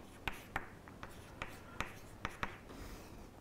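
Chalk or pen strokes while writing out Cauchy's integral formula: a run of sharp, irregular taps and short scratches, close and fairly quiet, with no talking.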